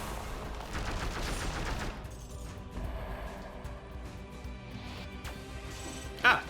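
Gunfire in the video game Dead Cells, a dense rattling burst of shots early on that thins into scattered mechanical clatter, ending with a short sharp impact.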